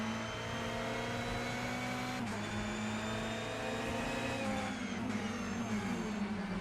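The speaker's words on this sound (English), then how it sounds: "Couple Ferraris here getting after it." Ferrari GTE race cars battle closely at Sebring with a steady high-revving engine whine, pitch dropping at gear shifts and climbing again, fairly faint.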